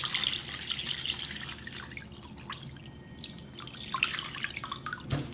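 Water runs and drips into a cooking pot at a sink, measured out for boiling two Cornish hens; a steady trickle with scattered drips and small splashes, fairly quiet and close, with no talking.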